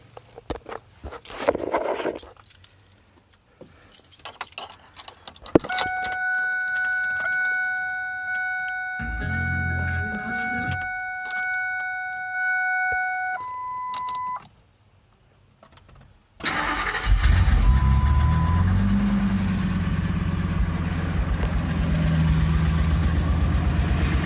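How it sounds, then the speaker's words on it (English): A Ford Triton truck engine cranks briefly, then catches and settles into a loud, steady idle close by, with clicks and a few electronic tones before the start. "let's go ahead and start the truck and see how it runs"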